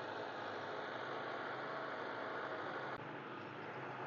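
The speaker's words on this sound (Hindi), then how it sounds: "ये ट्रैक्टर आ रहा है जी।" Tractor engine running steadily in a turnip field, a continuous loud broadband drone with a brief dip near the end, no talk.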